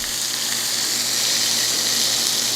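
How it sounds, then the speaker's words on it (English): Chicken curry sausages sear in a hot pan, giving a steady, loud hiss of frying fat that runs unbroken throughout with no voices. "I'm gonna give them a sear, flip them around, and sear the other side."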